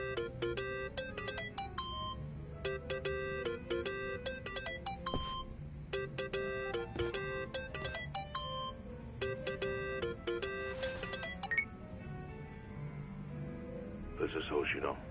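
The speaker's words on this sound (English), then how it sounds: "Think that's your phone," A phone ringtone in Yakuza: Like a Dragon plays as a repeating electronic melody in rhythmic bursts with short gaps, steady and fairly loud, over a low background hum.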